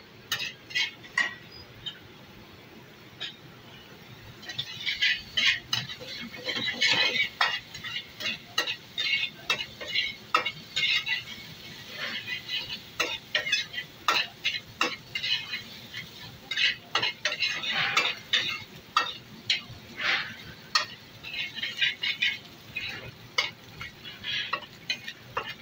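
Chicken browning over high heat for restaurant-style dry chilli chicken, a soft continuous sizzle broken by frequent sharp clinks and scrapes of a spatula on the pan, alone without talk.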